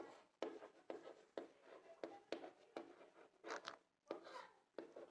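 Chalk or marker strokes scraping across a board as notes are written, a steady series of short scratchy strokes in quick rhythm, fairly faint and with no talking.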